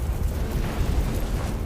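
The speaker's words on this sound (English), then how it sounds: "the fire from the leaking gas spreads rapidly, triggering a massive explosion that sets the whole building ablaze" Massive explosion from a leaking gas fire engulfing a building, a loud sustained roaring blast of deep rumbling noise filling the whole moment without a break.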